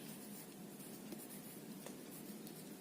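A pen scratches out a scale on paper for a cylindrical equidistant map projection drawing, faint and continuous with small scratchy strokes and no talking.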